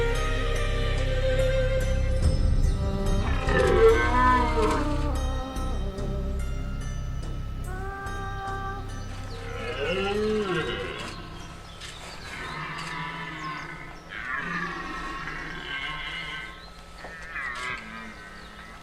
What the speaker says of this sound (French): Un cerf qui brame dans la forêt en contrebas